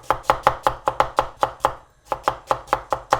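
A knife thinly slices red onion on a board in quick, even strokes. There are about a dozen crisp taps in two runs with a short pause between them, close and loud, with no talk.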